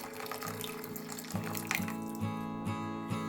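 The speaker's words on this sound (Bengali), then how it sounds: "একটু গরম জল দিয়ে দিলাম।" Hot water pours into mung dal in a cooking pot, a soft splashing trickle with a few light knocks, quiet and without voices.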